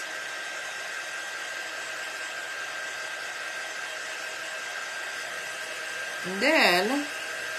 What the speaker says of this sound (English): now I'm going to dry this with my dryer